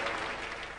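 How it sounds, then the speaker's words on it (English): Cricket crowd at a South Africa match applauding and cheering, a brief, dense wash of clapping from a large stadium audience heard at a moderate distance. "And a big cheer."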